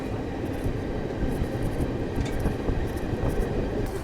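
Garib Rath Express rolling on rails as it nears Bareilly Junction station, a steady, dense low rumble of wheels and carriages lasting throughout with no pauses.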